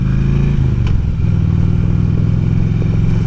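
A Harley Davidson Road King Classic motorcycle rides along a road in late winter, its engine a loud, steady low rumble with a brief shift in pitch, with wind noise and no talking.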